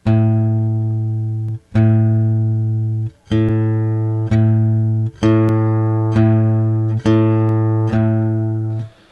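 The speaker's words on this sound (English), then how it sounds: "here's an open A string. You can see the shape and hear it." A single low open A string on guitar is plucked repeatedly, each one ringing and fading before the next, about nine even plucks played up close with no talking.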